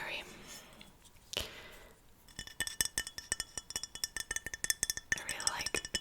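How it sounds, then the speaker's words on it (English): Rapid fingertip and nail taps on glass, bright close clinks in an uneven quick rhythm lasting several seconds, preceded by quiet handling noise and a single louder knock. "I really like glass tapping."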